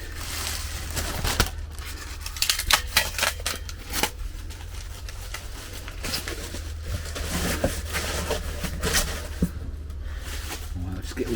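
Packaging being unwrapped from a new Cadac Grill Chef with its chef pan, barbecue grid and pot stand: close crinkling, tearing and rustling of wrap and cardboard in irregular bursts over a low background hum.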